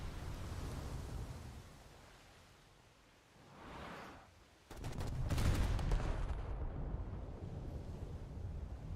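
Heavy naval guns boom in a World of Warships battle aboard the Italian battleship Dante Alighieri, a dull low rumble building and then a loud sustained blast of broadband roar that lingers for several seconds, with no talk.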